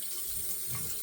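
Water runs steadily from a tap into a sink while a face is wetted before shaving, a soft even splashing stream with no voices.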